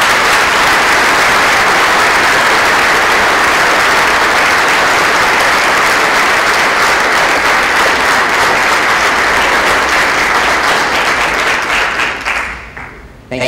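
Sustained audience applause at a 2014 life sciences conference keynote in Seattle, loud, dense clapping that holds steady for about twelve seconds before tapering off at the end.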